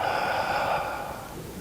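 During a slow tai chi walking session for seniors, a single close, airy exhale through the nose and mouth holds steady, then gradually softens. No other sounds or talk accompany it.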